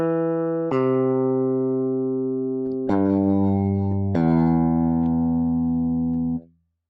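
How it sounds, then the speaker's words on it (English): Sustained notes from a SoundProps Direct SG electric guitar, played dry without amp or effects, ring out in three clean plucked chords that change roughly every two seconds before stopping abruptly. "Just like an electric guitar would sound without any amp or effect sounds."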